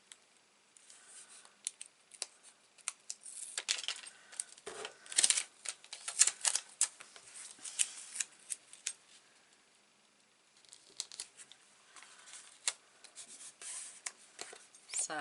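Scissors snipping paper while making a 6 x 4 chalk mini album, a run of close, crisp cuts and crackles in two bursts with a pause between, a voice talking through the crafting.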